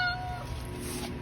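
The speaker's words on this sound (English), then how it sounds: "this is one of our work cats" Sheba, a work cat, lets out a single short meow close by, with quiet room noise around it.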